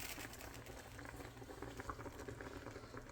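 Puerto Rican bistec encebollado, beef steak with onions, simmering under a lid in a pot, a faint, continuous bubbling patter close by, with no talking.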